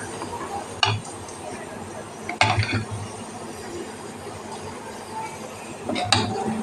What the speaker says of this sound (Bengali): এই দেখো এবারে আমি রেখে দিচ্ছি বাটিতে